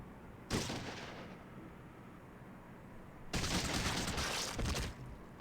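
Two gunshot blasts in the Fallout 2 video game, each a sharp onset followed by a long, harsh, noisy roar, the second louder and more sustained, with no talk.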